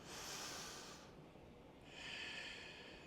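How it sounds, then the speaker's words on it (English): Slow, audible breaths during a hatha yoga flow, a long airy inhale followed by a pause and a steady exhale, close and soft with nothing else heard. "Another inhale and exhale."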